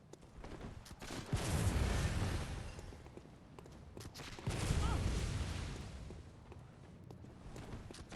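Bloodborne combat with two heavy, boomy blasts a few seconds apart, each swelling and fading over a rumbling background, moderately loud.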